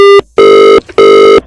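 A telephone ringing with loud electronic tone bursts, one ending at the start and two more full rings of about half a second each separated by short gaps, close and clear with no talk.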